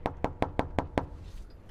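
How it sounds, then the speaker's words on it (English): Six firm knocks on a residential door in an even, steady rhythm, close and distinct, followed by a quiet pause. "When we come into the neighborhood, we'll knock on the door"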